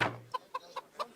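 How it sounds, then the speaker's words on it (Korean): Chicken clucking in a video game, four short evenly spaced clucks in quick succession, fairly close and clear over a quiet background. "닭 존나 귀엽네"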